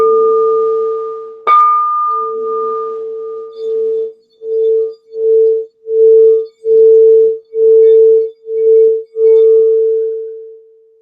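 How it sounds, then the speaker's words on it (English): A grandmother singing bowl is struck once with a bright ring, and its deep hum sustains and pulses in a steady, rhythmic swell as it is played around the rim. The tone is clear and close, with no voices. "So this one was the grandmother bowl."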